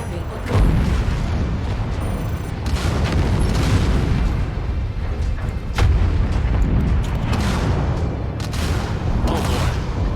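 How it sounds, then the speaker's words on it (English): Missile strikes and explosions rumble through MechWarrior 5: Mercenaries combat, a steady barrage of booms and blasts with several heavier hits, layered under a synthetic cockpit voice announcing warnings. "Incoming missile. Target acquired. I am probably going down. This is not looking good. Enemy explosion detected."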